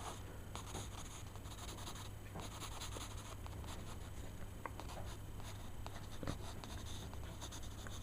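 A pencil sketches a drawing of a spiky creature, steady soft scratching and rubbing strokes on paper with a few sharper marks, close and quiet without any talk.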